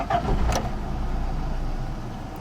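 A 1989 Toyota 4Runner's fuel-injected 22RE four-cylinder fires up, a brief crank catching into a steady, close mid-pitched idle that runs evenly through the rest of the moment.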